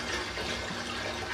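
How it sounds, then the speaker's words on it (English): Five litres of spring water pouring into a home-brewing pan as a steady, close, rushing splash that runs without a break. "I'm now going to fill that pan up with 5 litres of spring water"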